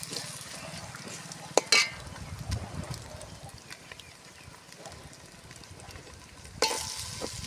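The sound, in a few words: frying biryani ingredients in a pan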